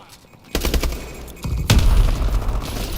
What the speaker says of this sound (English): Nice grenade.